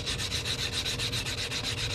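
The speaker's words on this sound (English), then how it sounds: "We're going to sand that down." Steady rhythmic rubbing as sandpaper works the cut edge of a silver coin ring, close up and continuous with even strokes, no voices.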